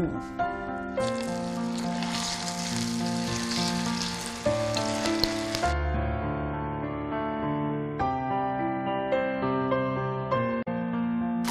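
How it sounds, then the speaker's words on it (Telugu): Okra for Jaipur bhindi deep-fries in hot oil, a bright sizzle that swells in the first half and then fades, heard under steady instrumental music. "ఇప్పుడు మనం కొంచెం కొంచెంగా ఫ్రై చేసుకుందాం, డీప్ ఫ్రైడ్"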